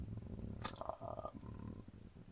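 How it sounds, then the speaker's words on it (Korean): A single crunchy bite into a freshly fried, crispy mala chicken patty burger with sliced cheese, lettuce, pickles and cheese sauce, followed by soft close-up chewing. "드디어 한 입 먹어보겠습니다"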